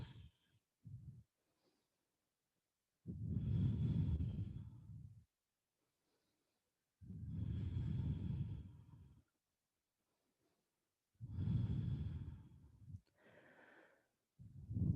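Slow, deep breaths during a yoga session, each long inhale or exhale lasting two to three seconds, separated by quiet pauses and heard close and alone.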